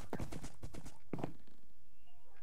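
A horse in the video game Minecraft clip-clops with a quick run of hoof steps, then a second short burst before it falls quiet, fairly close and clear.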